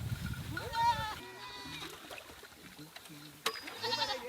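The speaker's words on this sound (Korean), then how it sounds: "마을에서 몇 킬로나 떨어진 곳, 염소떼가 물을 먹으러 달려옵니다." A herd of goats in the parched Samburu region of Kenya bleats repeatedly while running toward water dug from a dry riverbed. Several wavering cries overlap at mid distance, and a narrator speaks over them.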